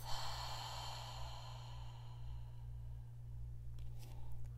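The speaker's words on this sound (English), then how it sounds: "Inhale deep and full. Exhale through the mouth." A slow, deep breath pushed out through the mouth during a yoga back-stretching session, one soft, close, airy exhale fading over several seconds, with a faint breathy stir near the end.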